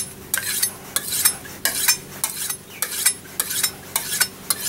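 A kitchen knife is pulled repeatedly through a manual knife sharpener, each back-to-front stroke giving a bright, gritty metallic scrape, about eight close, loud strokes in a steady rhythm with no talking.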